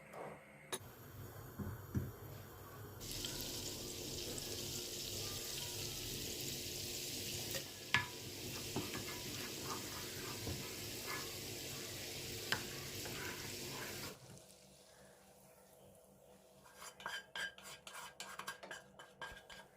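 A spoon stirs yogurt into broth in a cooking pot: soft, steady scraping and sloshing with a faint sizzle-like hiss. It runs continuously, then gives way to lighter clinks near the end, with no talk.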